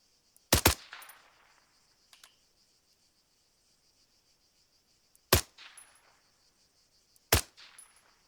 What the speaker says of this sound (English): one of them shooting at you